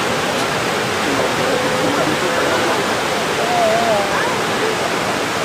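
Floodwater from an overflowing river rushes through a drainage channel in a town's residential quarter, a steady, loud broadband roar of churning water that continues without a break, with faint traces of distant voices underneath.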